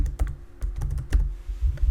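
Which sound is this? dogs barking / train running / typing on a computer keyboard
typing on a computer keyboard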